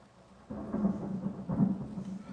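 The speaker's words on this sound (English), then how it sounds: "Thunder!" A low, rumbling roll of thunder swells in at once and rolls on steadily, with a second heavier surge partway through, fairly muffled and alone without voices.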